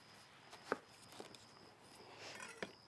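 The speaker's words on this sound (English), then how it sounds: "we'll just take the knife down, cut the end off" A kitchen knife slices the end off a whole pineapple on a cutting board for a salad, with two or three short, quiet chopping thuds spaced apart against a faint background hum.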